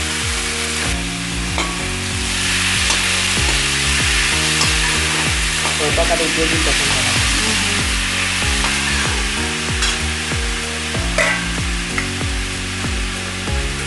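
Finely chopped potatoes fry in a pan with chili and ginger paste, a steady sizzle with occasional stirring scrapes under loud background music.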